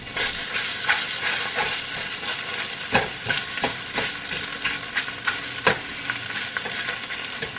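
Eggs sizzle and crackle steadily in a hot frying pan, slightly burnt, with scattered sharp pops and scraping stirs of a utensil across the pan throughout.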